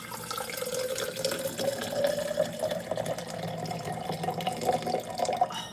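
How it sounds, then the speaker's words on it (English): Water poured steadily into a pot while cooking, a continuous gurgling, splashing stream that rises in pitch as the vessel fills, close and moderately loud with no talk. "I'm gonna add the rest of the water that's in here."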